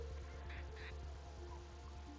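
A crow in The Sims 4 gives two short, harsh caws close together, standing out over a steady low hum of game ambience and music.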